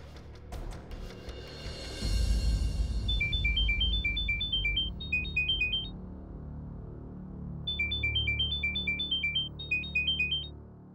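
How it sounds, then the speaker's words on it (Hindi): An electronic phone ringtone trills in two short repeating bursts, separated by a pause, over a low rumbling background. "मैं अभी अंजलि जी को फोन करती हूँ।"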